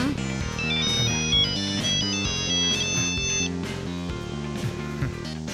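A mobile phone ringtone plays a loud, bright electronic melody of repeating notes over a steady beat, close by and alone, with no voices.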